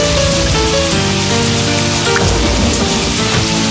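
Heavy rain pouring steadily at night, a dense continuous wash close by with no voices over it.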